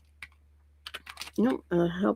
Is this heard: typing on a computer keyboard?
yes